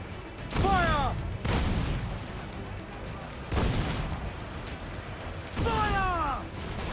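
Ship cannons fire in the pirate game Assassin's Creed IV Black Flag, heavy booms landing roughly every two to three seconds, some followed by whistling streaks, loud over a constant roar of sea and battle ambience.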